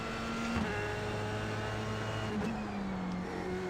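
An F3 formula car in iRacing runs at steady engine pitch, with two quick gear shifts audible as sharp drops in engine tone, loud and close, with no talking.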